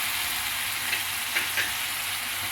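Chicken karahi sizzles and fries steadily in a pan as tomatoes and green chillies are added, a dense continuous crackling hiss with a few soft stirring bumps, close and even.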